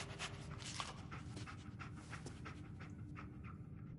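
Dogmeat, the dog companion in Fallout 4, panting in quick rhythmic breaths close by, a continuous run of soft huffs that fades slightly toward the end.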